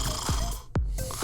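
A person snoring in a shared hotel room at night: a single rough, throaty snore that rises close and fairly loud, alone over a low steady background hum.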